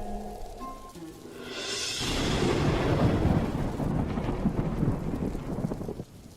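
Thunderstorm sound effect for a story: a deep rolling thunder swell builds into heavy, dense rain that pours steadily for several seconds before cutting off, following a brief fading tone.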